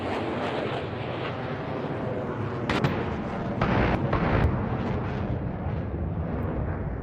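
In a flight combat video game, a jet fires its cannon during an F-5 and MiG-21 dogfight. Loud roaring bursts sit over a dense, constant engine and wind rumble, with no voices.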